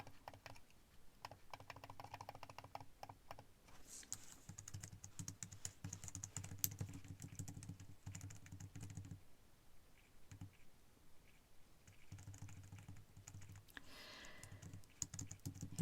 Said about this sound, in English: I recently got a new and better keyboard, which has a numpad that I can use to move around